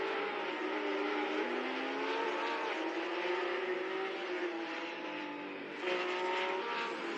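Race cars in a virtual racing game at SuperLap NZ, engines droning steadily with shifting pitch as cars run close together and pass, a continuous loud roar with no talk.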